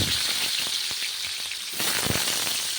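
Large potato chunks, cut for Kolkata-style chicken biryani, fry in hot oil with a steady, loud sizzle throughout, broken by a few sharper crackles and pops from the oil.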